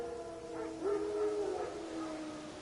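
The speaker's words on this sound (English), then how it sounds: "Wolves? No. Wild dogs." Wild dogs in The Witcher video game let out a few drawn-out, wavering howls that overlap and rise and fall, heard at moderate distance over a quiet background.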